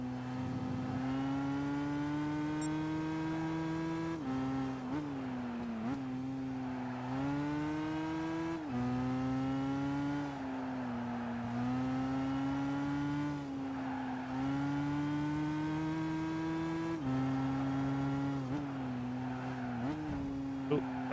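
Car engine in the Gran Turismo 5 racing game, a loud, continuous whine that climbs through the revs, drops sharply at each gear shift, then climbs again in repeated cycles, with occasional tire noise.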